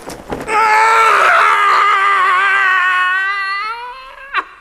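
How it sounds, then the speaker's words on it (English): A man's loud, sustained yell of horror on waking, a harmonic scream holding steady for about three seconds and tapering off, followed by a short gasp; this is Arthur Dent's regular early morning cry. "The regular early morning yell of horror."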